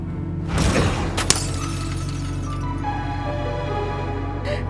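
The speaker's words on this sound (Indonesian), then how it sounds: "Tuh kan, udah cermin hancur." A mirror shatters in one loud crash, shards breaking and scattering for a moment before the noise dies into a steady low hum with faint tonal sounds.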